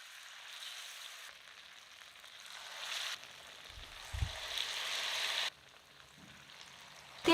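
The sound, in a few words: pakora snacks frying in hot oil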